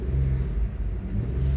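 A Nissan A33 Cefiro with a 3.0-liter VQ30 V6 revs close by, a deep steady engine rumble that swells slightly in pitch over a brief stretch, with no voices.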